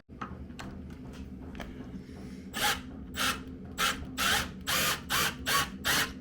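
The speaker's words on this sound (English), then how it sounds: "we drilled them using a spade bit" Spade bit boring holes in wood on a narrowboat renovation, starting with scattered light clicks and scraping, then a series of loud, rhythmic grinding bursts close by, about eight in quick succession, with no talk.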